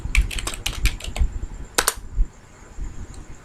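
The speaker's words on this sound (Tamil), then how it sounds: "அதில் போய் கோட் பிளாக்ஸ் அப்படின்னு டைப் பண்ணிக்கோங்க." Quick bursts of clicky keystrokes on a computer keyboard, a fast run of taps followed by a few scattered presses and a louder double click, close-miked with faint background hiss and no talking.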